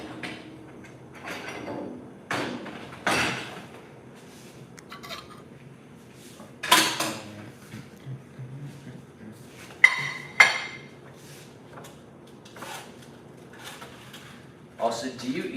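Someone rummages through a kitchen drawer for a spatula, with scattered clinks of cutlery and utensils and a couple of louder knocks and clatters between stretches of quiet, while a person talks intermittently.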